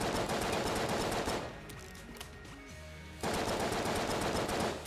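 Rapid, continuous automatic gunfire from the video game Enter The Gungeon rattles loudly as walls are shot, pausing briefly with quieter game sounds before the dense shooting resumes.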